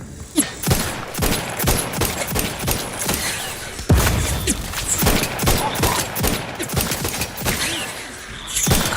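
Sustained gunfire from the video game Outer Worlds 2, with dense rapid volleys and repeated sharp shots loud and close throughout, one heavier impact midway, and a faint voice briefly heard.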